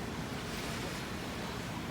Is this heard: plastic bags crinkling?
no